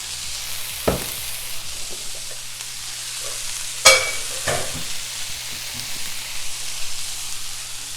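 Potato and egg breakfast sizzles steadily in a skillet, a continuous hiss with a few clattering utensil knocks and scrapes, without talking.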